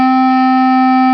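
One sustained saxophone note D sounds, loud and unwavering, filling the whole short moment without any other sound.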